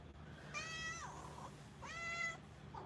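Minnie the cat gives two drawn-out meows, clear and fairly close, separated by a short pause, with a steady low hum underneath.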